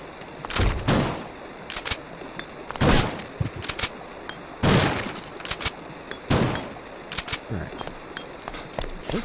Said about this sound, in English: Oh, I blew up the cart.